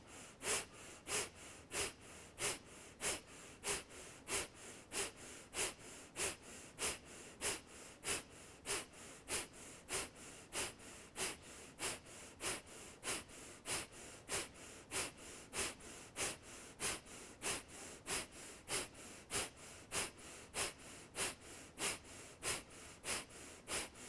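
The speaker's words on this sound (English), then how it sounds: "either slow deep breathing or a steady and sustainable breath of fire" Rapid, forceful nasal breathing of breath of fire in a kundalini yoga practice, steady evenly spaced sharp exhales repeating about twice per second for the whole stretch, close and alone with no talk.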